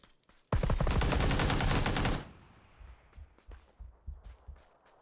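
Sustained automatic gunfire from PUBG, a loud rapid burst of covering fire lasting under two seconds, then scattered fainter shots and impacts trailing off.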